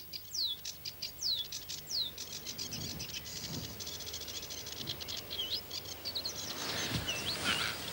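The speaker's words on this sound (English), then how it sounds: "there are just so many sedge warblers here that they're singing their hearts out" Sedge warblers sing from a reed bed in a rapid, scratchy, chattering stream of chirps and whistled slurs, several birds close by and loud over a steady hiss of insects and wind.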